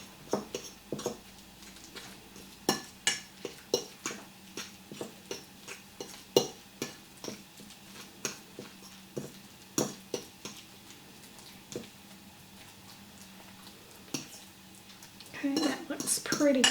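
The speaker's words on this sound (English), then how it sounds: "Now then I'm going to mix all this up." A utensil scrapes and clinks against a dish while ingredients for a Thanksgiving dinner are mixed, sharp taps coming in an irregular stream, growing busier and louder near the end.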